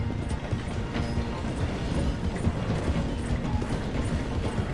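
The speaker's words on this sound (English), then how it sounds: "The train is slowing down to go through the station." A video-game train slows through a station with a dense, rattling clatter of wheels and carriages, steady and close throughout, with no voices over it.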